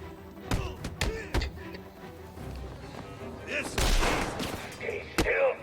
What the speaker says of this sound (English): Two-Face is actually shooting at me in this fight.